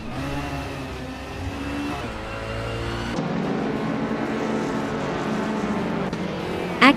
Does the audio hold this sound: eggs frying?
no